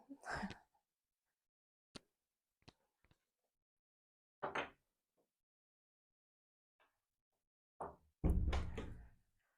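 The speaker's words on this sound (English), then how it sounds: "I'm just going to shut the door." A room door pushed shut with a single loud, close thump near the end, preceded by scattered quiet handling clicks and a few brief sounds in an otherwise quiet room.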